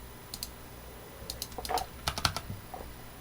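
Fingers tap on a computer keyboard while a post's description is edited, in a few short bursts of quick, light clicks with brief pauses between them, close and fairly quiet.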